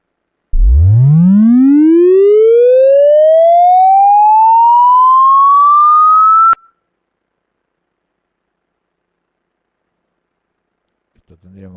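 Pure sine tone sweeping smoothly upward from 20 Hz toward 20,000 Hz, a single steady rising whistle lasting about six seconds and cutting off abruptly, followed by silence and a faint trace of a voice at the very end.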